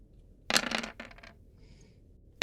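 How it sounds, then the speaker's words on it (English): Stress dice in a tabletop Alien roleplaying game rattle and tumble in a quick clattering burst, with a few lighter clicks as they settle and another knock at the end, close and alone. "I'll have to roll the stress dice separately"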